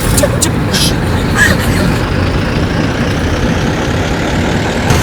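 A car engine drones low and steady as the car is driven, a continuous rumble running under voices.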